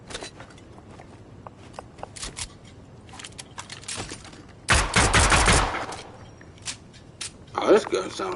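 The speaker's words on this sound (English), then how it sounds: "Oh, this gun sounds terrible." Gunfire from a bootleg 1911 pistol in the Fortnite video game, with scattered small clicks and pops, then a loud burst of rapid shots midway and another short burst near the end.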